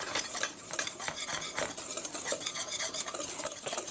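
A ricotta scone mixture seasoned with ground black pepper is stirred in a bowl, giving a continuous close scraping and clinking of a utensil against the bowl in quick, uneven strokes, with no talking.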